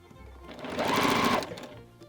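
A sewing machine stitches quilt fabric in a short, steady burst that rises and then tapers off, its motor whirring close and clear with no talk over it.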